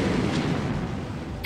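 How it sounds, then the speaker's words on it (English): Rumbling explosion in the Norn9 visual novel on PS Vita, a broad continuous boom lasting the whole moment with no voices over it. "another explosion sounded"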